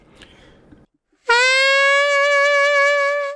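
A saxophone scoops up into a sustained B flat with no finger trick, a single close, loud note sliding into pitch and holding for about two seconds after a brief low rumble and a moment of silence.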